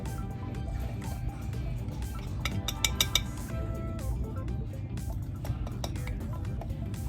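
A fork mashes and works butter in a bowl for apple cinnamon walnut muffins, making a steady wet squelching with small clinks of metal against the bowl, close and continuous.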